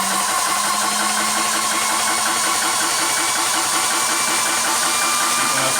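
A Vevor PCP high-pressure air compressor pumps steadily with a dense, rapid mechanical chugging and rattle, running loud and continuous alongside whirring fans.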